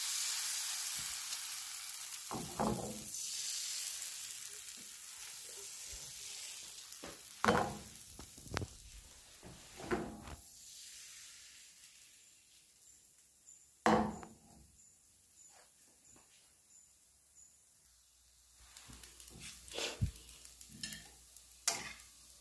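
A crepe batter fries in a buttered pan, a soft continuous sizzle under scattered clicks and knocks of utensils, with a few sharper taps standing out.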